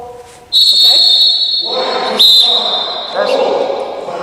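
A referee's whistle is blown in sharp, loud blasts during basketball officiating training in a gym, with several shrill tweets ringing over room echo and a voice speaking in between.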